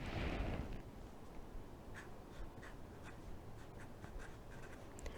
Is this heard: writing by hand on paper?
yes